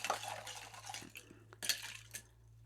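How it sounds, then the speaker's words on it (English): Crushed ice churned and stirred in a glass for a Bacardi ginger rum cocktail: close, scattered clinks and wet, crackling rattles in short bursts, with no talking. "We're kind of just churning it, mixing that well, chilling it down."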